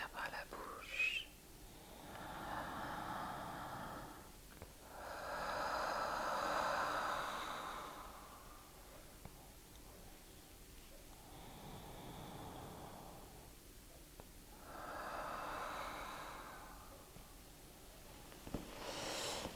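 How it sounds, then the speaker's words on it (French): Slow, breathy exhalations through the mouth during a massage, about four long airy breaths spaced several seconds apart, soft and close, with faint whispered speech in between. "On expire par la bouche."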